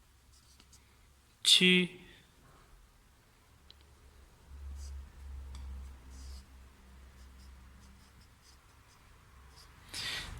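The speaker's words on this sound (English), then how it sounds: "I'll just write the pinyin." A pen scratches and taps softly on paper, writing Chinese characters and pinyin by hand, with faint light strokes and quiet rustles under a brief spoken word.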